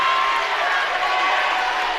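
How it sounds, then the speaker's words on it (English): A home crowd at a DeForest Norskies high school basketball game against the Stoughton Vikings roars steadily on its feet in a gym, a dense, sustained wash of cheering with no breaks. "The DeForest crowd is on their feet, urging the Norskies for a defensive stop"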